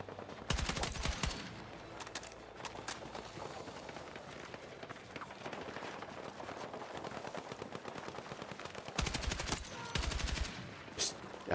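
Battlefield 6 gunfire while shooting bots, with bursts of rapid automatic fire at the start and end and scattered shots in between, accompanied by footsteps and movement noise, fairly quiet overall.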